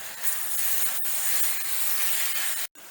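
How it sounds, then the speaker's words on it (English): Beef and vegetables sizzle in a hot pan for a pepper steak with onions, a steady loud hiss broken by brief dips as the food is stirred. "I just keep on stirring this meat and get those vegetables nice and tender, and cook that meat"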